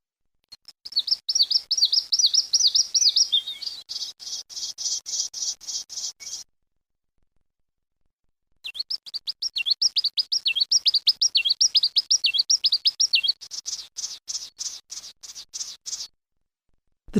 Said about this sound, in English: Today's call was the Victorin's Warbler.